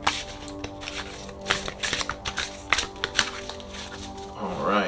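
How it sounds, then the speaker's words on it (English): A Sugar Skull tarot deck being shuffled by hand: continuous papery riffling and flapping of cards with irregular soft taps, close up, ending in a brief swishing slide. "And I am going to shuffle on camera."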